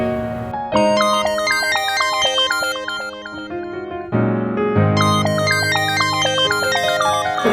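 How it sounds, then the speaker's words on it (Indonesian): A phone plays a loud, bright melodic ringtone while an outgoing call waits to connect, the tune repeating in quick note runs with a short pause midway, and nobody speaks over it. "Bentar, gue telepon Rifa kali."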